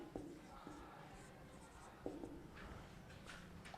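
Chalk tapping and scraping on a classroom board in short, faint strokes, with quiet room noise throughout and no talking.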